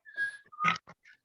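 A voice whistling a strange, wavering tune in imitation of a monster, a couple of short sliding whistled notes followed by breathy bits, close and alone.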